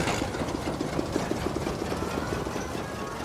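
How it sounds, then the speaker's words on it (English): A generator in Dying Light 2 chugs steadily after starting, with a rhythmic low-mid engine thrum and a rapid knocking pulse. The sound holds at even volume throughout, close and continuous, with no voices. "Let's get this generator going."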